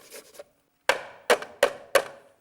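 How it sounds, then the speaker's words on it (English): Garlic cloves crushed or finely grated for spicy fishcakes, heard as a soft scraping rustle followed by four sharp crunching presses at a steady rhythm, close and fairly loud with no talking. "2 cloves of garlic, which I'm going to crush or finely grate actually in"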